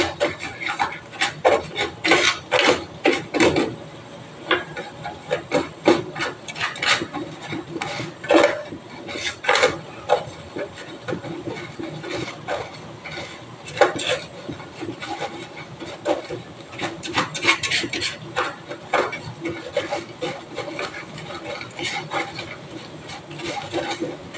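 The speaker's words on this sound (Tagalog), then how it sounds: "halu-haluin nyo ito para hindi siya masunog" Cassava flan mixture scraped and stirred in a pan with a utensil, a steady run of rasping, rubbing strokes near and fairly loud, repeating irregularly throughout with no talk.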